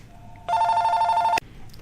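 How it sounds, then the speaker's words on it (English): A telephone rings once in a steady electronic burst of about a second, loud and close, breaking the quiet of a home Copic colouring session before cutting off abruptly. "Okay, another phone call"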